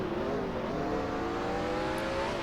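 A NASCAR Cup race car engine in NASCAR Racing 2003 strains and revs in first gear through a right-hand corner at Sonoma, a continuous loud whine with rising tones and no talking.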